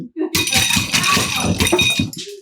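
Ice is crushed for a strawberry smash cocktail in a loud, rapid run of crunching, rattling cracks that lasts about two seconds.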